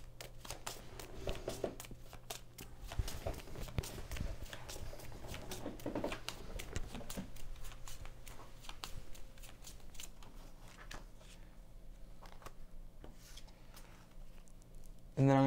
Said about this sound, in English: Draw 2 cards.